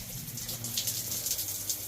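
Cold water running from a questionable-looking outdoor shower at 14 Mile Beach near Carnarvon, a steady hissing spray that continues without pause for the whole stretch.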